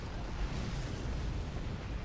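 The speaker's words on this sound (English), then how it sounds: "Artillery annihilated." A loud, dense artillery explosion in the space game Star Trek Online, a continuous rumbling roar that fills the whole stretch with low booming energy and no clear pauses.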